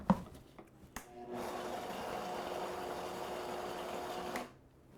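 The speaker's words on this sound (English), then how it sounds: "At this point, I'll just give it another blend." A blender whirs through a batch of walnut pesto for about three seconds, a steady mid-pitched grinding hum that starts after a few clicks and cuts off cleanly, close and loud with no talking.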